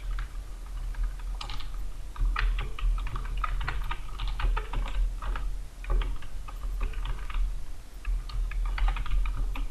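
Text is typed on a computer keyboard in Microsoft Word, with bursts of close, rapid key clicks and short pauses over a low steady hum, and no voices.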